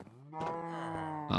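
A cow in a Minecraft Create modpack game gives a single drawn-out moo, clear and moderately close, rising at the end with no talk over it.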